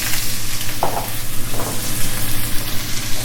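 Meat sizzles in olive oil in a wok, a steady close frying hiss with a couple of brief stirring scrapes, no talking.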